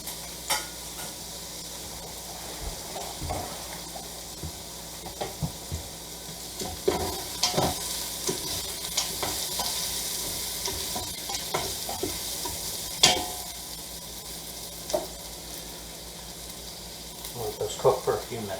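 Sausage frying in an Instant Pot hisses and sizzles steadily and close, broken by frequent scrapes and clinks of stirring against the pot, with no voices.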